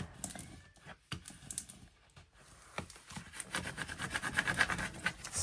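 A Cricut scraper is dragged across a crafting sheet in short, close rasping strokes that start sparse, then turn steadier and denser with rapid scratchy clicks.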